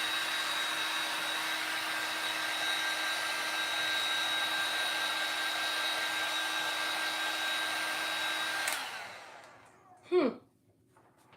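A hair dryer drying paint on a DIY birth-flower craft, a steady loud whirring blow for several seconds that cuts off abruptly, followed by a brief rustle and a short voiced sound.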